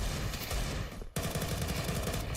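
Dense automatic gunfire from a Counter-Strike 2 match fills the clip, loud and continuous, with a brief gap near the middle before the rapid fire resumes.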